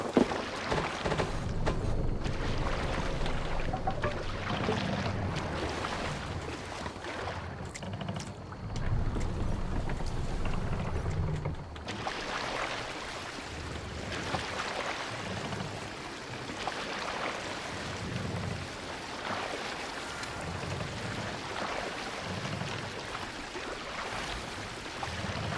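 Oars rowing a Viking longship in Assassin's Creed Valhalla, heard as a steady wash of water and wind with a rhythmic low pulse of strokes through the second half, with no talk.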